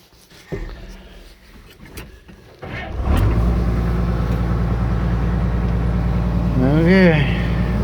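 A Komatsu PC 220 LC excavator engine starts loud and steady partway through, running as the machine drives, with a rising whine near the end and voices talking over it.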